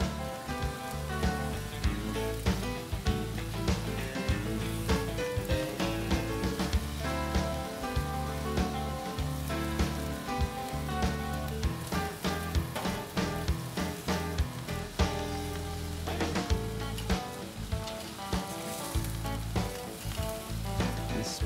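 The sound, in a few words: meat and asparagus sizzling on a barbecue grill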